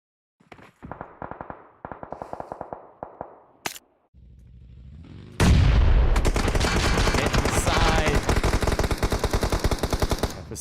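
Loud bursts of automatic gunfire from a PUBG Mobile battle, fainter shots at first, then a dense, continuous barrage of rapid rounds after a sharp boom.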